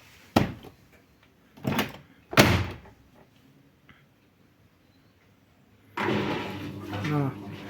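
A washing machine door with a temperamental latch is handled in three sharp bumps and clunks, close by, followed by a stretch of louder rattling and rushing noise.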